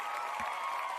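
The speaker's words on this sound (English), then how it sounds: "Let's give a hand clap." Audience at a college football fan event applauds, a brief, moderately loud patter of many hands clapping together.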